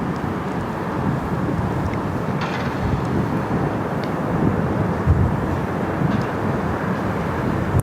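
A Rex airliner moves along the runway at Sydney Airport, heard as a steady broadband roar with wind buffeting the microphone throughout and no voices.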